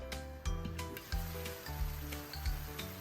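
Chicken adobo sizzling and frying steadily in a pan, a constant hiss broken by soft periodic bumps and scrapes, close and moderately loud with no talking.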